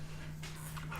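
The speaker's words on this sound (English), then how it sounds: "Dog has decided that it's barky time." A dog gives a short, soft whimper followed by a brief yip in a quiet indoor room, close by and over a steady low hum.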